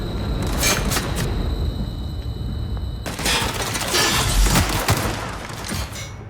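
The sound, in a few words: gunfire from the video game The Outer Worlds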